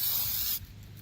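DEI high-temperature coating sprayed from an aerosol can onto car parts: a loud, close, steady hiss for about half a second that cuts off abruptly, leaving faint background noise.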